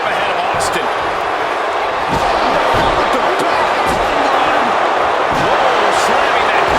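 Heavy slams and thuds from a WWE 2K25 wrestling match between Rikishi and Stone Cold Steve Austin repeat over a constant crowd roar, with commentary voices talking throughout.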